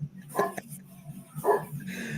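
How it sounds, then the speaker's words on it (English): A neighbour's big dog gives two deep, loud barks about a second apart, heard indoors in the background under low room noise. "Damn, that's a big fucking dog."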